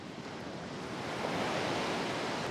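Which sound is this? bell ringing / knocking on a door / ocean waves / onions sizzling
ocean waves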